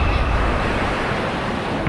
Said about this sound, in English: Minutes later, it's pounded by a vertical wall of water.